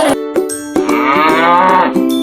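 A cartoon cow lets out a loud, drawn-out moo, close and clear, preceded by a few short clicky beats.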